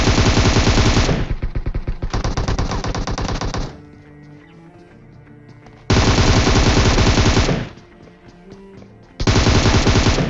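Rapid automatic gunfire in a video game shootout: two long, loud bursts, then a quieter gap of faint clatter, then two more loud bursts, each one a dense, continuous rattle up close.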